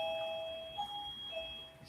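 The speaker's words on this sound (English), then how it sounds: "Why is the doorbell going off?" A doorbell chime sounds faintly in a room, one sustained electronic tone fading slowly under quiet background noise, with no voices.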